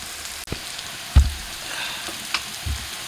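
Fresh chilies, onion, garlic and dried chilies frying in a pan for greens, a soft continuous sizzle with a few sharp clinks and stirring knocks scattered over a few seconds, close up and without speech.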